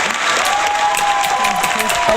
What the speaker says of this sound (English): Give a hand of applause for Victoria.